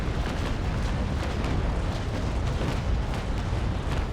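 A sailing warship unloads a cannon broadside in the Naval Action naval battle game: a dense, continuous rumbling roar of overlapping blasts that stays loud and unbroken throughout.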